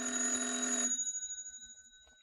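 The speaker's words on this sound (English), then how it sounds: "Daisy, the phone. It's ringing." Telephone bell ringing loud and near in one sustained burst, then stopping and leaving a fading metallic ring that dies away over the next second or so, with no voices.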